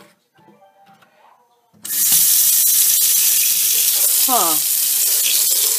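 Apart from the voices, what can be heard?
hot water running from tap over blueberry-dyed fabric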